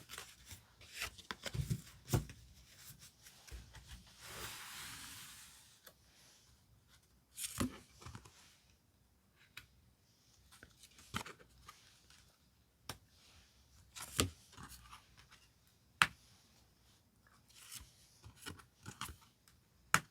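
Tarot cards are handled while five are picked out: quiet close shuffles, light slides, taps and snaps of card stock come in irregular bursts with pauses between; no voices.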